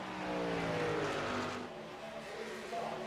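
Race trucks battling for the lead at Kansas in a video game race, engines droning and shifting pitch as they run together, heard faintly under a commentator's voice.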